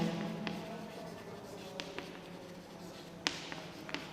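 Pen scratching across paper while working through a determinant problem, faint continuous writing strokes with a few small taps, heard alone and close without talk.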